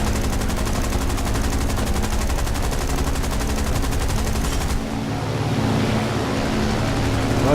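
Rapid automatic gunfire in the War Thunder combat game, a dense, loud, continuous stream of shots with engine and battle noise beneath, the burst cutting off partway through and leaving a rumbling background.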